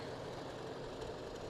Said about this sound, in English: we got Gary Sage's tractor